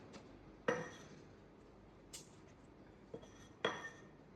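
A drinking glass is tapped against a surface to knock off flour while cutting round scone dough, giving a few sharp, faint clinks with quiet gaps between them.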